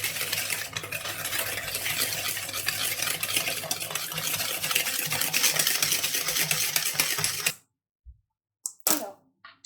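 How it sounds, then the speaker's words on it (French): Sugar and eggs for a coffee and chocolate tiramisu are stirred in a bowl, making a close, continuous scraping and swishing for about seven seconds. It stops abruptly, followed by a few faint knocks; no talking. "une fois qu'on a bien mélangé le sucre et les œufs"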